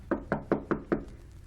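Five sharp knocks on a door, evenly spaced and close, ringing out alone in a quick steady rhythm.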